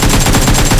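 Rapid automatic gunfire from an AK rifle in a video game shooter, a dense loud burst of shots filling the whole moment with no talking.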